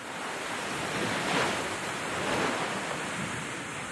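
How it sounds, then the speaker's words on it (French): Floodwater surges through a village street in a continuous broad roar, swelling slightly in two waves while the rushing noise stays dense and unbroken, with no voices. "La rue s'est transformée en torrent"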